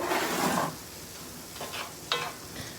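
Onions and peppers salted in a pan are stirred with a soft scraping rustle, sizzling at first, then a few quieter scrapes and a brief clink of a utensil against the pan.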